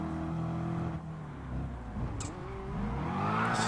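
A beefed-up stock race car engine in Gran Turismo Sport revs steadily, its droning tone rising and falling with gear changes, close and fairly loud.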